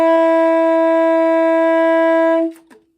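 A tenor saxophone holds a single sustained high F sharp for about two and a half seconds, loud and steady with a rich harmonic tone, then stops abruptly, leaving only a faint brief tail.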